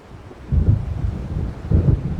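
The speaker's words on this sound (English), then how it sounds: "It seems there's a storm coming." Rumbling thunder from an approaching storm in the video game Alan Wake, two low, heavy swells rolling in about a second apart over a steady dull wind-like background, with no voices.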